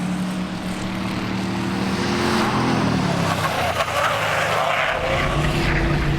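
A Ford Crown Victoria drifts around a track, its engine straining at high revs while the tires skid with a rising screech and rough hiss midway through, loud and continuous with no talk.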